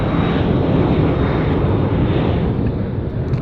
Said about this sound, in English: Austin, who's taking our jet today?